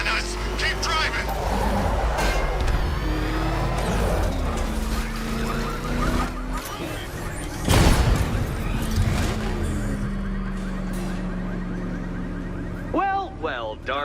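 A car engine roars steadily during a video game chase, with rising and falling revs, a heavy impact near the middle and shouting voices over the driving noise.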